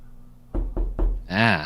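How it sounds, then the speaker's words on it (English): A soundboard knock-knock effect plays three loud, evenly spaced knocks, then a short voiced sound right after. "little knock-knock sound effects"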